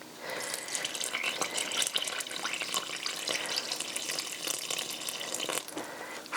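Warm filtered water mixed with a little boiled water pours steadily into a container for sourdough bread, a continuous close splashing gush with no voices.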